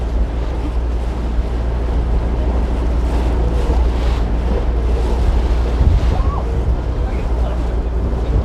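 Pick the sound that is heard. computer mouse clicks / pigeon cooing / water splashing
water splashing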